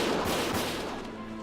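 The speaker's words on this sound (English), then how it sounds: "Gunfire!" Gunfire in the video game Valkyria Chronicles, a dense burst of overlapping shots that fills the whole short moment loudly and fades slightly toward the end.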